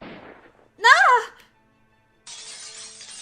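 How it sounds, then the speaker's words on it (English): A glass window shatters in London Detective Mysteria, a bright, crashing burst lasting about a second near the end, after a short vocal cry and a brief silence. "shortly after came the shattering of glass from one of the bedroom windows"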